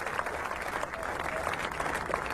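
A cricket crowd at a Test match between England and India in Nottingham gives Sachin Tendulkar warm, steady applause, a dense wash of clapping throughout.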